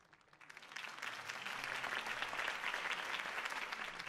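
Video game crowd applause in Batman: The Telltale Series swells up quickly and holds as a dense, steady roar of clapping, somewhat distant and without voices on top.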